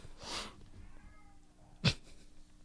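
A cat meows in a scene from the movie The VelociPastor, one drawn-out meow followed by a short sharp second call, over quiet background hum.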